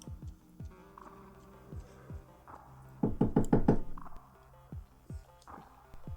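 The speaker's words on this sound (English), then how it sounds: "There's a knock on the door after maybe half an hour." Knuckles rap on a door: a few scattered single knocks, then a quick burst of about five firm raps in a row, followed by more sparse taps, with no speech.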